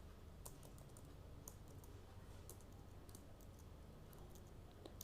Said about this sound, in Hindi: यहां पर आपको लिखना है ओपन ऑफिस।